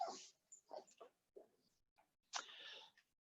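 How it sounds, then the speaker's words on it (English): Dogs whimper and yip in short, uneven bursts close by, faint overall, with gaps of quiet between the cries. "I'm going to have a little discussion with my dogs"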